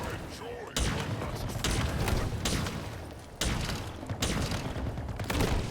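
Rapid bursts of gunfire from a gun in Halo Infinite, loud and continuous with several sharp onsets, layered with game explosions and a voice talking over the shooting.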